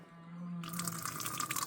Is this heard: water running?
yes